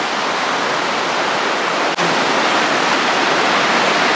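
A creek flows beside a hiking trail near Gatlinburg, a loud, steady broadband rush of water that fills the whole stretch with one brief dip.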